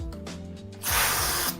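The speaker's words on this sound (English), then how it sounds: "this man over here is spraying something" An aerosol can lets out a loud, steady hiss of spray lasting under a second, close by, following a stretch of mechanical rattling and clicking.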